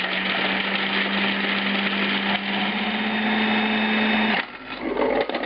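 A food processor chops coarsely cut red onion and garlic, its motor whirring in a loud, steady drone with a constant tone before the pitch shifts and the blades stutter near the end.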